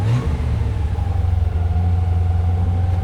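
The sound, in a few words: Jaguar car engine running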